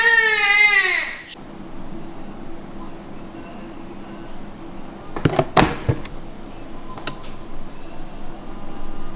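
An infant wails with a rising, stretched-out cry that breaks off after about a second while she has her diaper changed. Quieter room noise and a few sharp handling clatters follow, and no one speaks.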